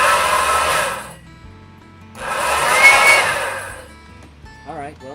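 An old Kirby Dual Sanitronic 80 vacuum cleaner motor whirs up in two loud bursts, each spinning up and winding down, followed by a brief quieter warbling tone.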